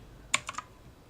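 A shortcut combination is pressed on a computer keyboard: three quick, crisp key clicks close together, nearby and fairly quiet, with no talking.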